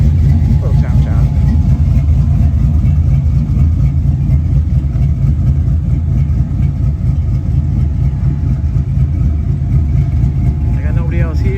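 A 1979 Chevrolet Malibu sits idling with a choppy, lopey idle, its low rumbling exhaust steady and loud up close for the whole stretch, with a faint voice briefly in the background.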